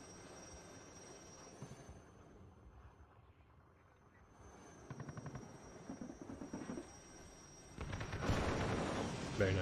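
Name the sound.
Alouette helicopter under KPVT machine-gun fire, video game WARNO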